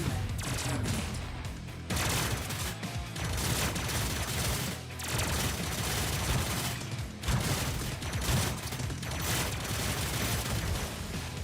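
Dense, continuous gunfire from a big metal gun-covered wall in the game Terminator 2D: No Fate, a loud unbroken barrage of rapid shots and booms that runs throughout with almost no pause.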